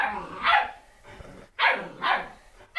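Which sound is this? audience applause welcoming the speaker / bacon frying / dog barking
dog barking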